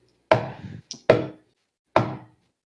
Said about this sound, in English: Knock again, louder.